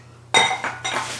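Empty glass candle jars from Bath & Body Works clink together as they drop into the trash, three bright, ringing knocks in quick succession, close up and with no voices.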